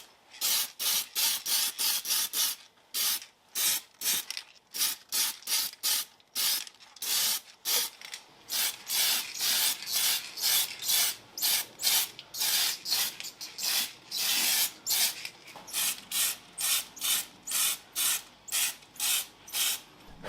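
Rattling aerosol can bursts of matte black spray paint hiss in short repeated blasts across the underbody and suspension member mount area of a Mazda RX-7 FD3S under restoration, close and loud with brief gaps.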